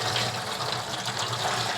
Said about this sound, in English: you can hear how much more water was in that bag of tomatoes than in the Romas